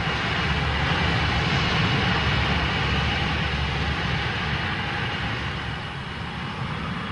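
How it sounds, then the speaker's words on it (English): A BEA Trident jet airliner roaring on takeoff on a Sunday afternoon, a steady, loud, broadband engine rumble and whoosh that holds constant throughout and fades slightly near the end. "As the BEA Trident took off that Sunday afternoon"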